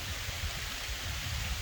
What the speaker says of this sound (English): as this rain is starting to come down on my head